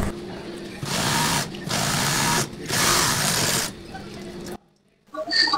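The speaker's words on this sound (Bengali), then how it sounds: "এটা যে মেশিন দিয়ে সেলাই করতেছি এই মেশিনটা হলো double needle lock stitch sewing machine" A double needle lock stitch sewing machine stitches cargo pants in three long loud bursts separated by brief pauses, then stops, leaving a few faint clicks and light taps nearby.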